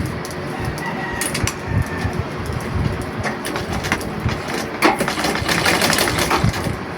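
A sewing machine stitching along the seam of fabric for long pants with a back elastic waistband, running in a fast, steady mechanical whir, close and loud, with roosters and birds calling in the background.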